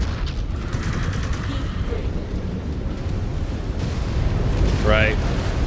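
Missile explosions in the mech combat game Wolves of Tukayyid make a dense, continuous low rumble and booming that swells toward the end, with a clipped radio-style voice heard briefly over the battle.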